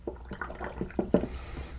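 A rubber bulb squeezes water through a fountain pen nib and section, giving a short series of close wet squishes and gurgling spurts, with a couple of louder gushes near the end.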